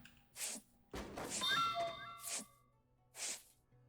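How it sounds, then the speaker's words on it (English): Bright chime when an item lands in place in Ship Graveyard Simulator 2, a few ringing tonal notes amid other soft whooshing game sounds, moderately loud and alone. "I like the little chime sound for when you land it in there."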